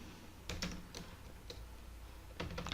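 Quiet typing on a computer keyboard while a SQL query is entered, with a few scattered light key taps and a brief faster cluster near the end, close and soft.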